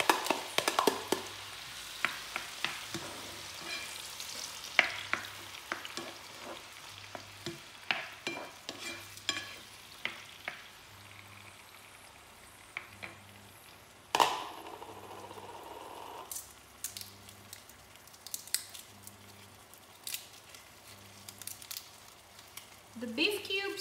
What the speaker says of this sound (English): my oil is warm enough, and now I'm gonna put in my tomatoes